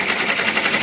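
Baby Lock Enterprise embroidery machine running steadily at speed, a fast, even needle rhythm with a mechanical whir, loud and close, with no talk.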